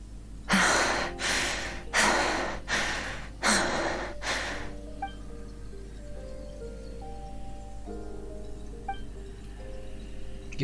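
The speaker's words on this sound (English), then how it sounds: "Your breathing woke me up." Heavy, gasping breaths from a Genshin Impact character come in five loud, regular bursts early on, then fade into a quiet stretch of soft game music tones.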